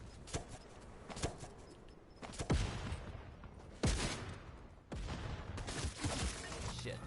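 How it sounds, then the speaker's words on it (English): Gunfire in the Fortnite video game striking the player, several sharp cracks and booms spaced irregularly over a noisy game background, with a few heavier hits and no talk. "I got shot"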